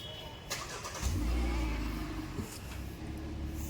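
A car's engine catches about a second in, then settles into a low, steady rumble for a wintry drive with friends. The engine sounds close but fairly quiet, with no voices.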